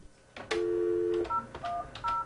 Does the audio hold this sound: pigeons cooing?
no